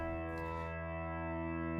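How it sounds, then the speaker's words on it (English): Low open E string ringing on a distorted electric guitar in standard tuning, a single sustained heavy note with rich harmonics holding steady and loud throughout, with no talking. "the lowest string of the guitar usually is this."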